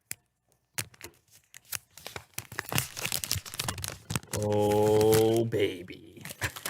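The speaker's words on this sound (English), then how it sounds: "Listen to the sweet sounds of the plastic unwrap." Plastic wrap torn and peeled off a new OnePlus Nord phone, crackling in a string of crisp rips and crinkles close up, ending in one long stretching tear, with a voice briefly over it.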